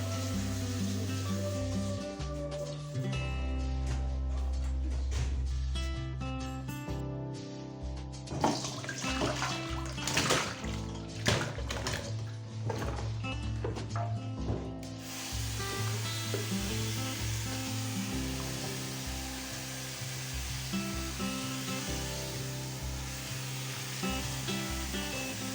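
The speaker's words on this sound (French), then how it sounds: "Donc je repasse un petit coup d'eau sur chaque légume, histoire de retirer tout le bicarbonate aussi." Tap water running over vegetables to rinse off baking soda, a steady splashing flow with clattering and knocking as the produce is handled, fairly close.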